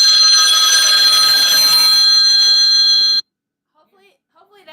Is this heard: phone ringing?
yes